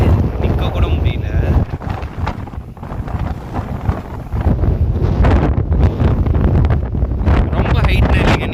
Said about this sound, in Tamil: ஏன் அப்படி அடிக்குதுன்னா இங்கே வெட்ட வழியா இருக்கு, அதனால தான் அப்படி அடிக்குது காத்து